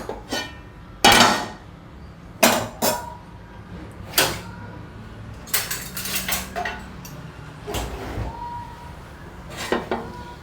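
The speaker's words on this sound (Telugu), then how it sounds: "ఇప్పుడు స్టవ్ ఆన్ చేసి పాన్ పెడుతున్నాను." Metal pan and utensils clank and knock onto a kitchen stove while tomato dosa is being made, a series of sharp separate bangs and rattles with short pauses between them, close and fairly loud.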